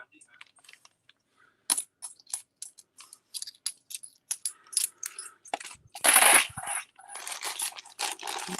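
Dirty, worn coins handled and dropped one after another, producing a rapid run of sharp close metallic clinks and jingles with a louder rattling cluster midway, no talk.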